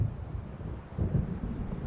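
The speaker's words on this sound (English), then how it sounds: "It seems there's a storm coming." Thunder from an approaching storm in the video game Alan Wake Remastered: a low, distant rumbling that swells a little midway and rolls on steadily, with no speech.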